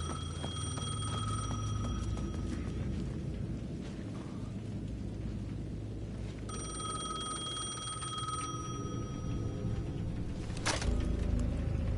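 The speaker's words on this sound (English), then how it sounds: "The payphone at the edge of the plaza was ringing again." A payphone at the edge of a plaza in Alan Wake 2 rings repeatedly in bright, steady tones over a constant bed of rain and low rumbling ambience, with a sharp crack near the end.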